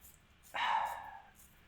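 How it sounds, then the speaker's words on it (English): A single dog bark, sharp and fairly close, rising abruptly and trailing off over about half a second against an otherwise quiet background. "Dog."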